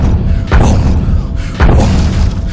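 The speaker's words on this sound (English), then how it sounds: "Something heavy thumped against the barn door" Two heavy, booming thuds strike a wooden barn door about a second apart, each a loud, low impact against a continuous rumbling background.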